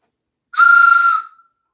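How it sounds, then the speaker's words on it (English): A steam-style train whistle sound effect gives one sustained, bright blast lasting under a second, cut off after a short fading tail and alone in silence. "Train whistles, woohoo."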